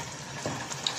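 Bread pieces go into frying mutton keema with green masala, giving a brief, close sizzle and stirring sound with a soft thump of the bread landing.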